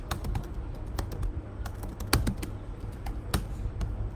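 Rapid typing on a computer keyboard, a continuous patter of close key clicks with a few sharper strikes, heard alone without speech.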